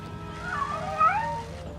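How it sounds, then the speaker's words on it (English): Cartoon cats meowing and yowling on an island swarming with them, a few overlapping wavering cries rising and falling over a dense background din, fairly close and continuous for about two seconds. "They get to Moonscar Island and see that the place is swarming with cats."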